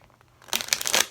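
A normal deck of playing cards being shuffled by hand: quiet at first, then a dense, crisp riffling rustle for about half a second, close and fairly loud.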